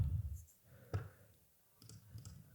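Computer mouse clicks during website coding work, a few faint sharp clicks spaced apart over low background noise.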